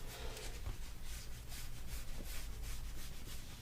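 Styrene plastic sheet being trimmed for a Mandalorian helmet visor, a steady scraping, rasping cut with faint repeated strokes and a few small knocks, close and without talking.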